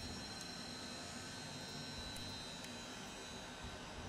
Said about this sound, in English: turning off the boost pumps killed the engine